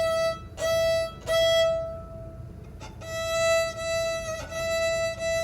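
A violin's E string bowed alone in a series of sustained long notes separated by brief pauses, clear and fairly close with no talking.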